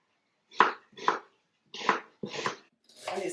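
Onions are chopped with a knife on a board in a home kitchen, five distinct, fairly loud thuds in an uneven rhythm with short pauses between strokes.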